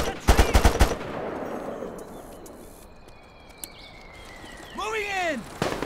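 Heavy .50 caliber machine gun in the Mercenaries 2 video game opens with a loud, rapid burst of shots, followed by ambient battle noise and a rising whistling sweep near the end.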